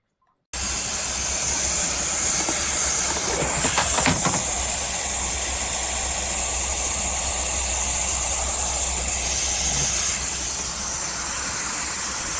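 Kärcher SC 5 EasyFix steam cleaner with iron plug hissing steadily and loudly after an abrupt start, a continuous close broadband hiss over a low rumble from the machine, sustained throughout with no talk.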